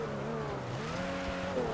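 Dinka Blista car in GTA Online rolling downhill on an off-road trail under braking, a steady engine drone with shifting tonal whine and faint tire noise, continuous and fairly close.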